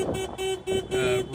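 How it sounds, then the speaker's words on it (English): A boat owner's horn honks repeatedly in short, loud bursts, about four blasts separated by brief gaps, close and harsh over a noisy background. "So that's the boat owner honking to get the attention"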